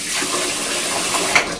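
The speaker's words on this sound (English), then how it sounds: "I'm going to wash my hands" Steady hiss of tap water running into a sink during handwashing in a home kitchen, continuous and fairly close, with a brief splash near the end.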